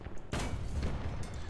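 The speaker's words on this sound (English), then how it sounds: "I'm being shot at from numerous sides" Gunfire in the War Thunder tank game around a Panzer III M: a sharp burst of shots hits near 0.3 seconds, followed by a rumbling, distant-sounding barrage with scattered fainter reports.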